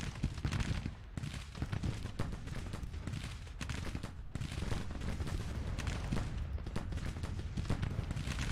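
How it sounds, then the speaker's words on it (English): Continuous battlefield din of Civil War era artillery and rifle fire in a strategy game, dense crackling volleys with scattered heavier thumps rolling on steadily without pause. "Anderson's coming under artillery fire."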